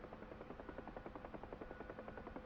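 A UH-1H Huey helicopter in the DCS flight simulator thumps with steady rapid rotor blade slaps over a constant turbine drone, loud and continuous with no talking.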